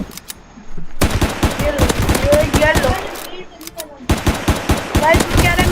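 Rapid automatic gunfire in the Zombie Rush video game, loud bursts of shots in quick runs with brief pauses between them, while a voice speaks over the shooting.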